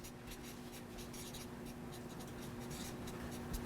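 Pen or marker strokes on a board while writing words in English, a run of short scratchy strokes in steady bursts, close and clear over a constant low hum, with no talk.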